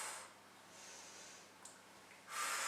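Breathing during a fitness workout, with a few forceful breaths blown out through the mouth and a gentler breath between them, close and fairly quiet, with no talking.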